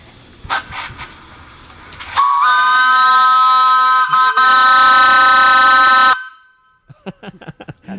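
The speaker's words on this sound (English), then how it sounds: "he's gonna toot the horn" A 100-year-old steam engine's horn blasts loud and close for about four seconds as a steady, multi-toned whistle, then cuts off sharply, with short clanks and bits of chatter around it.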